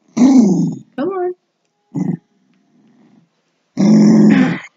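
A dog growls and grunts in close, short rumbling bursts separated by pauses, with a longer growl at the end.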